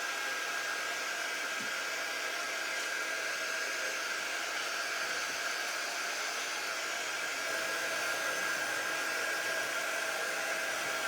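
A hair dryer blows steadily and close for the whole stretch, drying the paint on a patriotic bow sign, with no talking.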